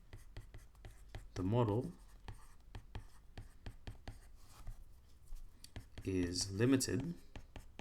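Pen or pencil scratching across paper while working out a quadratic maths model, a steady run of short scratchy strokes throughout, with a voice talking briefly at the start and near the end.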